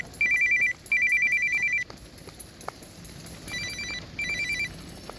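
A mobile phone rings with an incoming call on a crowded marathon route in Hawaii. The electronic ringtone comes in repeated bursts, loud and near, over faint outdoor background noise.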